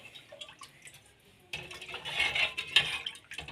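A spoon scrapes and clatters against a pan while pepper chicken liver fry is mixed. The stirring starts quietly, then turns into louder, rapid scraping with metallic clinks, and no one speaks.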